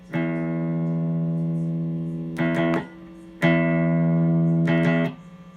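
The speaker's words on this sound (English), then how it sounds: "So this is just my low E string, no effects on." A clean electric guitar plays its lowest string in sustained notes, ringing out several times with brief pauses between, dry and fairly quiet.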